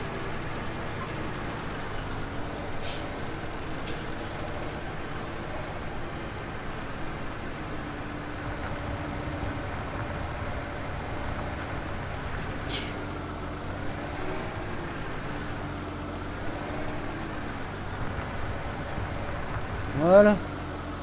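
DLC tractor engine in a farming video game, a steady low diesel drone running throughout with a brief louder burst near the end, while people talk over it.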